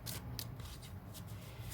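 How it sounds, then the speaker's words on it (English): A deck of tarot cards being shuffled once during a card reading, giving a short burst of riffling card noise that comes in quick flurries at a moderate level, close by. "I'm gonna go ahead and give you one good shuffle"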